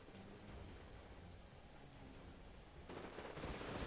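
Rapid rocket fire in the modern wargame Iron Conflict, a dense crackling barrage of launches and blasts that swells louder toward the end, with no talk.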